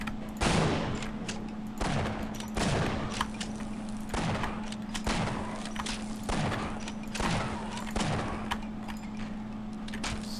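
Repeated shotgun blasts in the Half-Life video game, about eight sharp, loud booms spaced roughly a second apart over a steady low electrical hum, with no talking.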